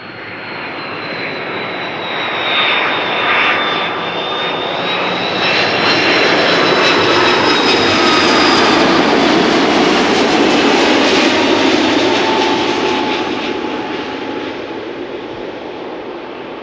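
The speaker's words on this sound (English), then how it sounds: "Matthijs' dad is landing the next 777-300." A Boeing 777-300 jet lands at Amsterdam Schiphol Airport on a sunny August day, its loud engine roar swelling as it passes close overhead and then slowly fading, with a whining tone drifting through the noise.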